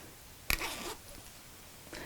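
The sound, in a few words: zipper slider being moved along a zip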